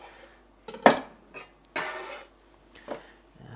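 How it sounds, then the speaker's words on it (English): A knife working through tomatoes for a pasta sauce, heard as a few scattered sharp clicks and clacks against a board or dish, with a louder knock early and lighter taps after, close and quiet between hits. "here I have some tomatoes for my pasta sauce, so I'm just going to chop them down a little bit"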